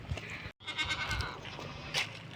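Goats bleating close by, a few wavering calls over soft farmyard background noise.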